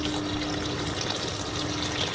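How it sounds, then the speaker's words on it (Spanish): Water pours steadily into a cooking pot of leeks, a continuous close gushing rush with no pauses. "ya vamos a añadirle agua hasta cubrirse"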